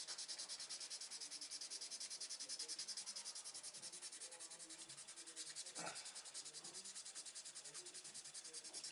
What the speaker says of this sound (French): il faut y aller avec une éponge abrasive plus fine et puis venir poncer